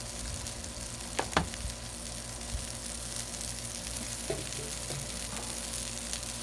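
Steady sizzle of Beyond Meat Italian sausage frying in oil on a hot Blackstone griddle, a continuous even hiss with a couple of brief clicks and taps, close and with no talk.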